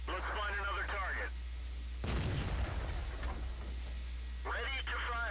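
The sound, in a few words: SU-85I tank destroyer gun firing in video game World of Tanks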